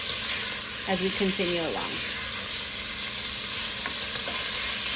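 Chicken pieces fry in a pan for a homemade chicken pot pie, giving a steady broadband sizzle throughout. A person talks briefly over it near the start.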